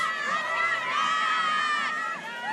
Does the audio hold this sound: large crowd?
yes